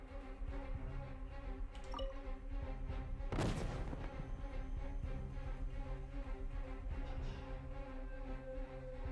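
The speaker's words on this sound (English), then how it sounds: "let's fire at the dummy now" A lone gunshot fired at a training dummy in Genshin Impact, one abrupt crack midway through a steady low background hum of game ambience, fairly quiet overall.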